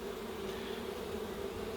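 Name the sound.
honeybees buzzing on a hive frame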